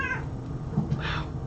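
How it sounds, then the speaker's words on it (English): A cat meows close by, a short drawn-out call followed by a second fainter mew, over a low steady background hum with no one talking. "hello cat"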